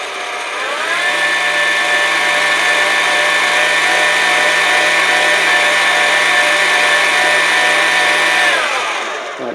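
An electric mixer beats egg white for royal icing, starting with a click and holding a loud, steady whirring motor hum with a bright buzzing whine for several seconds before winding down, close and alone.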